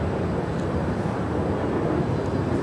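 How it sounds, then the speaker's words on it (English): A 17-year-old American Airlines Airbus A319 departs LAX bound for Vancouver, a steady broad jet-engine roar holding loud and constant throughout with no voices. "Our next departure is American Airlines Flight 1719 departing to Vancouver. It's a 17-year-old Airbus A319."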